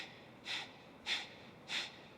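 Three forceful breaths pushed out through the nose or mouth, evenly spaced about half a second apart, during a yoga breathing exercise, close and fairly loud over a quiet room.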